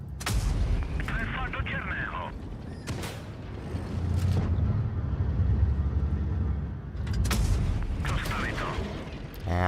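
Heavy tank gun fire from a TOG in World of Tanks Blitz, with several sharp booming cannon shots spread across the stretch over constant engine rumble and battle noise, some shots close and loud.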